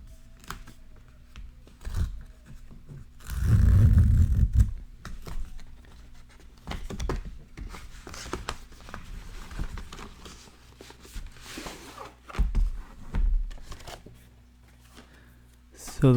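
Packaging for a GoPro Hero9 Black camera is torn open by hand, with bursts of loud ripping and rustling cardboard and plastic, interspersed with softer handling noises while someone talks.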